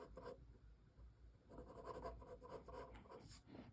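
Pencil drawing dark lines on paper, a soft, close scratching that comes in short repeated strokes, quiet and continuous with no speech.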